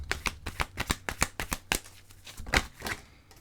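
Tarot cards are shuffled by hand in a quick run of crisp riffling flicks, then slower, softer shuffles trail off, close and quiet with no talk.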